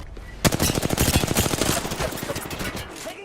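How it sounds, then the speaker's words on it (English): Rapid automatic gunfire in Call of Duty: Modern Warfare 2, dense bursts of loud overlapping shots rattling almost continuously for about three seconds after a brief quiet opening. "Taking fire."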